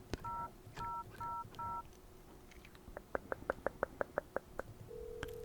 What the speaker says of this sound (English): We have the phone here. I could try calling the neighbor.